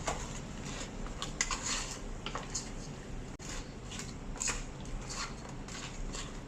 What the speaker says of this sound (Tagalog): So ihalo-halo lang natin hanggang lagyan lahat ng kamatis yung ating daing.